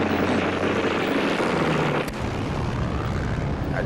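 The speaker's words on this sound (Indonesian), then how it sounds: "Namun tanpa diduga, muncul serangan pesawat udara Spitfire di posisi TKR." A Spitfire aircraft on an attack pass, a loud continuous engine drone with a low steady hum beneath, holding close and strong throughout.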